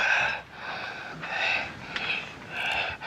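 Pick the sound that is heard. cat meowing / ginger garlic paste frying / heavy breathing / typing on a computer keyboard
heavy breathing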